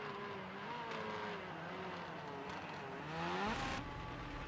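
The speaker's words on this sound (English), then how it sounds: "The snow makes it pretty hard to drive, even for a rally car meant for these conditions." A rally car slides around a snowy track, its engine droning and rising in pitch as it revs, with a louder surge of acceleration near the end.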